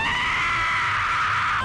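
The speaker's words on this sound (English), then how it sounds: "There was screaming." A studio audience screams loudly and continuously at a daytime talk show, a dense wall of crowd shrieking with no pauses.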